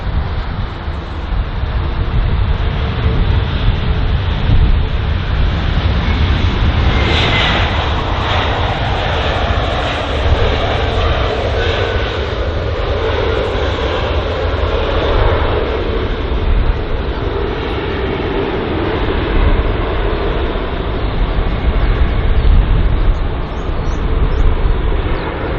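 Jet airliners at London Heathrow on a wet runway roar steadily and loudly throughout, a continuous broadband engine rumble that swells slightly midway, with no talk.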